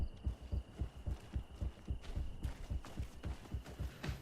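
Steady, throbbing heartbeat effect from the video game Greedfall, low thumping pulses repeating in an even rhythm over a faint background hum, with no talking.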